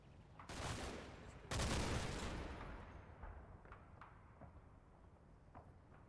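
Gunfire in the Combat Mission: Battle for Normandy wargame: two heavy bursts of loud fusillade, then scattered distant single shots and cracks that fade over several seconds.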